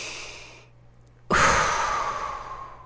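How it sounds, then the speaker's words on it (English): A person takes one deep breath in, a soft rising inhale, followed by a pause and then a loud, long, airy exhale close to the microphone that slowly fades. "We're just going to take a breath in and a breath out."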